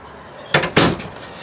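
The strong box safe door in a 2021 No Boundaries NO-BO 19.3 camper thuds shut, two close, solid knocks a quarter second apart.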